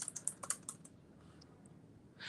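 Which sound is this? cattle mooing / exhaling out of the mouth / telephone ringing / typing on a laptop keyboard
typing on a laptop keyboard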